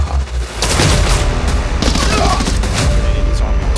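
Video game gunfire rattles off in rapid bursts and heavy booms, loud and close, with a voice talking briefly over the shots.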